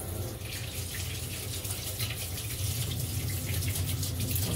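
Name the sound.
tap water running over a tea towel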